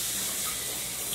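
Tap water running steadily into a sink while hands are washed, a close, continuous hiss with no break.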